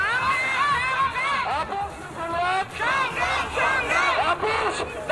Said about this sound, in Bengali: এই মুহূর্তে দেখো স্লোগানই উঠছে।